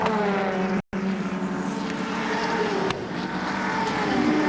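A Mobil-sponsored Ford Sierra touring car, number 6, racing in the 1990 Australian Touring Car Championship, its engine droning steadily and loud, joined by other race engine noise with a brief cut to silence near the start.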